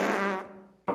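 A fart sound effect played from a soundboard: a buzzy, close blast that fades out over most of a second, then a short second burst.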